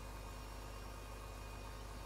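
A tractor engine in Farming Simulator 15 idles with a faint, steady low hum, continuous and unchanging, without any voices.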